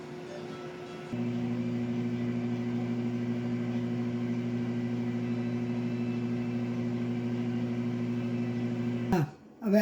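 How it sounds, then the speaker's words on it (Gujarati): An oven hums steadily with almond and cashew cookies baking inside, a constant low electric drone that starts after a second and runs unchanged before stopping with a brief clunk. "હવે આ આપણું ઓવન પ્રીહીટ થઈ ગયું છે એટલે એની અંદર આપણે મૂકી દઈએ."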